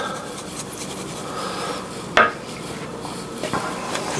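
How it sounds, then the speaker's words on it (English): Seasoned potatoes are stirred in a pan with salt, pepper and oregano, producing soft scraping and rubbing with one sharp utensil clink against the pan partway through. "Salt and pepper my potatoes and mix them around"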